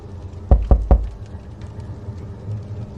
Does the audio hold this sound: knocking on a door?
yes